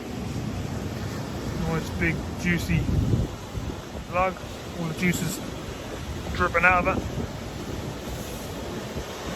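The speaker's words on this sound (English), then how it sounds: "It's all foam all frothing up the beach at the moment." Surf washes and foams up the beach at Southwold Pier at night, with a steady rush of waves and wind buffeting the microphone, while someone talks intermittently over it.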